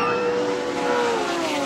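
1983 touring cars racing at Adelaide International Raceway, a loud continuous engine roar with shifting pitch as cars run close together in a slipstream, filling the whole moment without talk.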